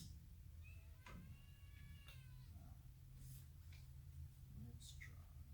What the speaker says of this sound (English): Attacked by the cats.